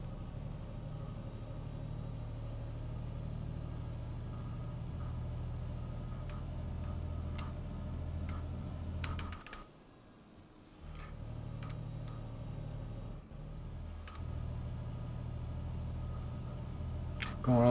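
Old truck labouring up a hill in Euro Truck Simulator 2 near Messina, a steady low engine drone that drops out briefly midway, with a few clicks and ticks over it.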